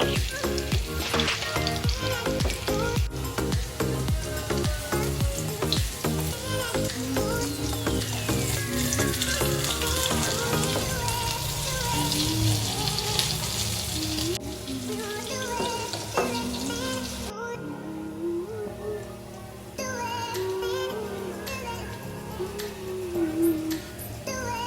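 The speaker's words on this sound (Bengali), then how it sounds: "সেই জন্য গ্যাসের ফ্লেমটা একটু লো রেখে আমরা পকোড়াগুলো ভাজতে থাকবো" Small prawn pakoras frying in oil over a low gas flame give a dense, continuous crackling sizzle, close and steady throughout, with a few clinks of a ladle turning them.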